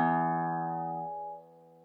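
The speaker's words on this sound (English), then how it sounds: "The sound wave for the low E string looks like this." A guitar's low E string rings out alone, a steady sustained harmonic-rich tone already sounding at the start and slowly decaying, with the upper overtones fading first over about two seconds.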